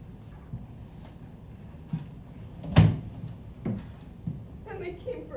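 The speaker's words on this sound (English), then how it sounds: "Then she closed the door." A door is shut with one firm, close thud, with a few lighter knocks and bumps before and after it in a quiet room.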